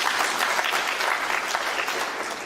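A snooker crowd in an arena applauding Judd Trump's 130 total clearance at the World Open, with dense, sustained clapping that fills the whole stretch at steady loudness.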